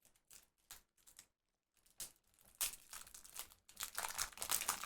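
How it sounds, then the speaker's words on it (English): Brand new deck of playing cards being fumbled open, with a string of crisp crinkling, tearing and crackling of the wrapper up close, starting as short bursts and then turning into a louder, steady rustle. "But I trimmed my nails, and now I can't open my deck of cards."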